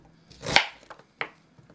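A knife chopping through an onion on a cutting board for a rustic Italian pasta primavera: one loud, close cut followed by two lighter, quicker chops.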